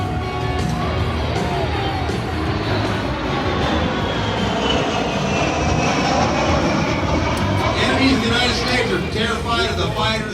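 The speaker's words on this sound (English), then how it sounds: "that's how they refuel aircraft in flight" Aerial refueling aircraft flying past at the Redlands, California air show, a loud, continuous engine roar that drones and shifts slowly in pitch as it passes, with a voice talking over it.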